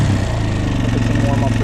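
A quad ATV engine running just after starting, a steady low idling drone with a rough pulsing rumble that holds evenly and fairly close for the whole stretch.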